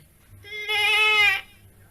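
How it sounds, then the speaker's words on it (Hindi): A goat named Binni gives a single clear, bright bleat lasting under a second, close and loud with no talk over it. "और ये तुम्हारी बकरी है?"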